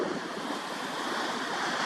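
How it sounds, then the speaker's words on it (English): Choppy ocean waves at a beach on a day of poor visibility, a steady wash of surf and hiss with wind buffeting the microphone, continuous and moderately loud with no voices. "the waves are choppy"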